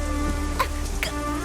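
Steady rain falls through a tense night scene in a dramatic film, a continuous broadband hiss with faint sustained tones floating above it and no voices.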